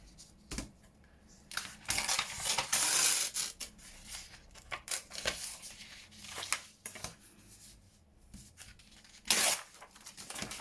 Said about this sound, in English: rip the top.